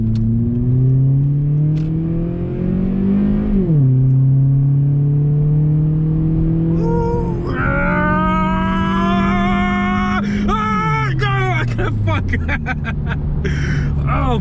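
Car engine revving and accelerating on the road, with pitch climbing through several gear changes and a steady loud drone throughout, while people talk over it.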